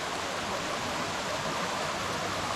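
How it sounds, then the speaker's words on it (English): A small creek cascades along a mountain trail in Mt Mitchell State Park, a steady broadband rush of water, moderately close and even throughout with no voices. "First creek crossing of the trail so far. Got a little cascade up ahead."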